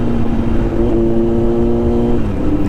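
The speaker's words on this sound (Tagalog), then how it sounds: "medyo nagta-throttle ako ng konti, in-open yung throttle, and then sabay na clutch lever, saka downshift" A remapped Kawasaki motorcycle, Z900 or Vulcan S, gets a quick throttle blip during a downshift, the engine note rising then settling in a continuous close rumble.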